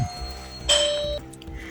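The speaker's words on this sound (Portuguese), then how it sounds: "aqui tocou a campainha" A doorbell chimes once indoors, a clear ringing tone that holds for about half a second over a quiet room with faint handling noise, heard during a felting session while a panda keychain is being shaped.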